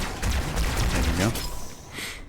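Booming shotgun blasts and scattered weapon fire in a Halo 2 battle, loud and close, with a voice briefly audible under the shots.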